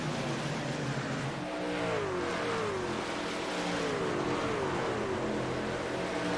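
Race truck engines roaring in the iRacing game at Chicago, a steady loud drone with rising pitch sweeps as one truck accelerates off the apron back up to speed amid the pack.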